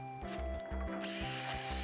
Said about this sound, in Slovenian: Evo, vrtam luknjo, naredimo luknjo